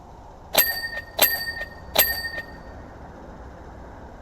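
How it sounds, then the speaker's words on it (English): Bright chime-like dings from the video game PowerWash Simulator 2 ring out three times in a fairly even rhythm, each with a lingering metallic tail, and a fourth starts at the very end. "The ding noises are fantastic."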